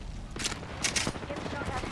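A couple of quick gunfire bursts in Apex Legends, brief and somewhat muffled under steady game noise and a voice, with a second burst shortly after the first.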